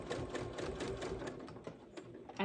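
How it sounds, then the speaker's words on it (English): A sewing machine runs steadily, stitching a seam on a large Ikea bag forward and backward, with a fast even needle chatter throughout and a brief clunk at the end. "I'm going to start sewing"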